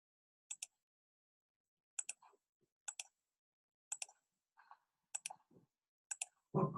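Mouse button clicks while drawing triangles, crisp paired click-and-release taps in a steady sequence of about six presses, close and clear, with some faint handling noise between them and a louder rustle at the end.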